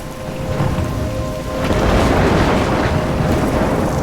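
A stormy scene in the game Life Is Strange brings heavy rain pouring down, with a deep rolling thunder swelling midway, loud and close. A faint tone hums underneath at first.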